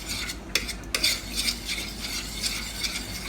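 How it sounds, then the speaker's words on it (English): A spoon stirs a heaping amount of tomato paste into a herb tomato broth in a pan, making steady scraping and clinking strokes close by, with a couple of sharper knocks against the pot over a faint sizzle. "Let's stir this all up."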